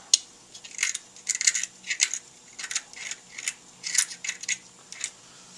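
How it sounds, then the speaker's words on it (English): A tool scrapes deposits off a KTM Husaberg motorcycle power valve in a steady run of short, sharp metallic scratches, about a dozen strokes, close and crisp, with no talking. "And then you scrape it off on the sides."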